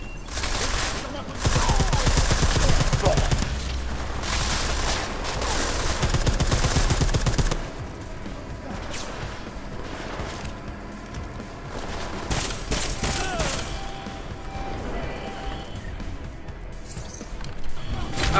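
Sniper rifle gunfire and dense weapon noise from the video game Deus Ex: Mankind Divided, loud and continuous, with heavy bursts early and lighter shots and mechanical clatter later, under faint voices.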